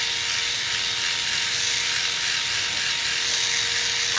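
Electric clippers buzz steadily and close at a constant pitch while trimming the hair around a dog's paw near the dew claw, an unbroken motor drone with no voices.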